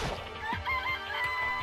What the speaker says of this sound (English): It's a chicken.